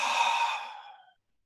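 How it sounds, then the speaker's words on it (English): A single deep exhale through the mouth, close and breathy, fades away over about a second and then falls silent. "take a deep inhale, and exhale through your mouth"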